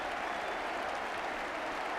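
A football stadium crowd applauds during a West Bromwich Albion versus Swansea City match, a dense, steady wash of clapping that fills the whole stretch at even loudness, with no clear talk over it.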